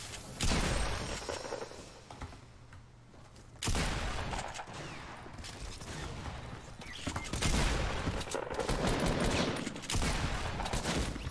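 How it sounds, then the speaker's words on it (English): Assault rifle gunfire in Fortnite, loud bursts of rapid shots in two main volleys separated by a brief lull, with crashes and impacts mixed in. "how many freaking times do I have to shoot this guy? Wow, my AR bullet didn't do damage."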